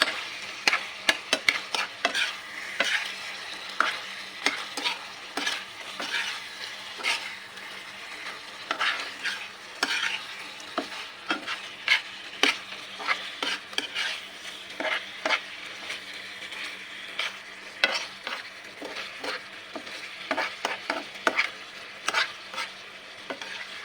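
Chili peppers stir-fried in a pan for adobo, with a steady sizzle and repeated clinks and scrapes of a spatula against the pan, close and continuous, with no talking.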